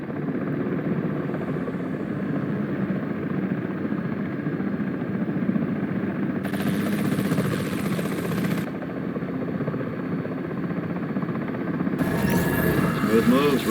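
A Comanche helicopter in a video game hovers with a steady, loud rotor and engine drone that runs throughout. Short bursts of hiss break in, and a radio voice speaks over it.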